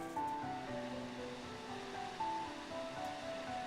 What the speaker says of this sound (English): he could hear the sound of water running